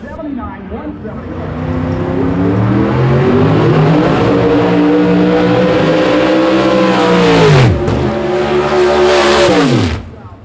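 Jerry's Pontiac Grand Am and Hector's nitrous-fed car launch down a drag strip, loud engine roars climbing in pitch through the gears. A brief dip comes before a final surge that cuts off sharply, with a commentator talking over it.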